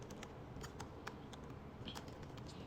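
Fingers tapping on a computer keyboard, a quick irregular run of light clicks close by, with no talking.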